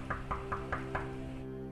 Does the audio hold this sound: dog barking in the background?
no